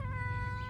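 A young cat, about ten months old, gives one drawn-out, tonal meow, close and clear, lasting under a second.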